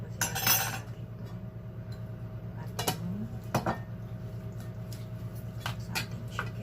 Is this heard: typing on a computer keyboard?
no